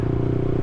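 A Yamaha YZF-R125 motorcycle engine held high near the red line, a loud, buzzing, steady whine at close range with no voices.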